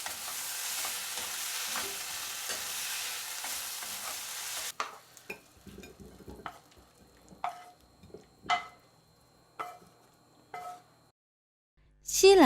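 Broccoli and shrimp stir-fry in a pot, starting with a steady sizzle for several seconds, then giving way to sparse scraping and tapping of a utensil against the pot, with quiet gaps between strokes.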